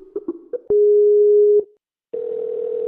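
An outgoing Skype call tone sounds close and clear: a few short beeps, then a long steady tone, a brief gap, and the tone starting again, with no voices.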